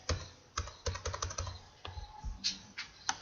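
Rapid computer keyboard and mouse clicks while text is highlighted and deleted, a quick cluster of taps followed by a few scattered single clicks, close and fairly faint with no talking.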